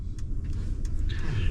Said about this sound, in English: I'm going to let this Subaru go by here